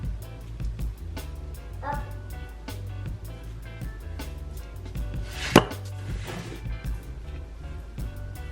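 Sourdough loaf being scored with a blade after a dusting of flour, giving soft repeated scraping and tapping strokes over a steady low hum, with one sharp louder rasp partway through.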